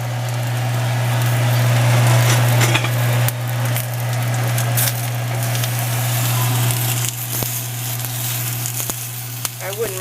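Peppers roast in a hot pan for a traditional Mexican mole sauce, giving a loud, steady sizzle and crackle that runs the whole time over a low hum.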